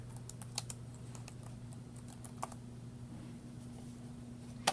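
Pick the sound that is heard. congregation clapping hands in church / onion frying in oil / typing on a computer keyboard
typing on a computer keyboard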